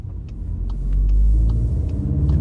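A Jeep Wrangler 392 with its V8 engine rumbles steadily while driving, a deep low drone swelling slightly in the middle, heard from inside the moving vehicle with no talk.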